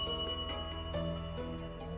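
A small hand bell rings faintly several times in quick succession during a spelling elimination game on a reality dating show, its tone lingering softly.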